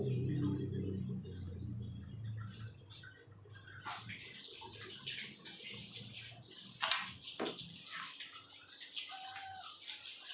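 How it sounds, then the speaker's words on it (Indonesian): Hands are washed under running water during a prenatal check-up, with a steady splashing stream throughout, some brief knocks and faint background sounds, and no speech. "Saya mau cuci tangan dulu"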